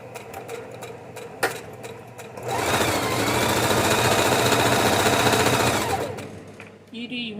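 A sewing machine running a straight stitch, a steady rapid mechanical chatter lasting several seconds after a quieter lead-in, then stopping abruptly.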